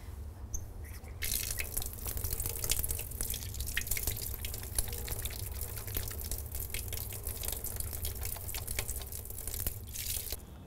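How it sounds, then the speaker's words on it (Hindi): A tap runs while hands are washed before making a bed, a steady close splashing and dripping of water with light rubbing and crackling sounds, no talk. "अब मैंने हाथ अच्छी तरह से धो दिया।"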